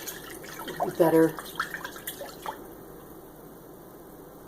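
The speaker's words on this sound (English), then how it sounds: "a little bit more water in the jar" Water pours and splashes into a jar of kefir grains in a brief close burst, followed by a few light drips and a quiet room, with a short spoken word in between.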